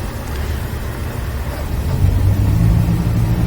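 A train in the video game Train Simulator 2016 rumbles as it pulls away, a low droning engine that swells louder after a couple of seconds, steady and close with no voices.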